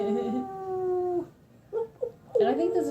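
People imitate a wolf howl with their voices, drawing out a sustained wavering howl, then a pause with short yelps and a rising second howl, close and loud.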